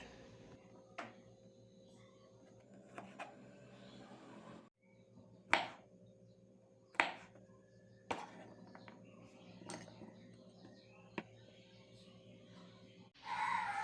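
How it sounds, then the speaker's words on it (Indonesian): Knife slicing peeled petai beans into three pieces on a cutting board, a few sharp separate chopping taps against a low steady background hum. "petai yang sudah dibersihkan dari kulitnya iris menjadi 3 bagian"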